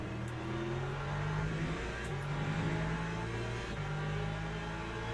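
Lexus race car engine in Le Mans Ultimate, a racing game, revving steadily and loudly with continuous droning harmonics that dip and rise as it shifts, with no talk over it.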